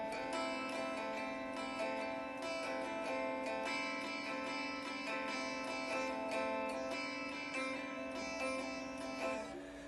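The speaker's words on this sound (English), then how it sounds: "there's a bit of buzz in this guitar" Steady plucked guitar notes ring out with a slight fret-buzz rattle on the strings, played alone at moderate volume without pause.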